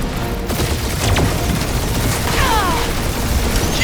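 A continuous, dense gunfire barrage from the Guardians of the Galaxy video game, with rapid overlapping shots and booms that stay loud and steady throughout.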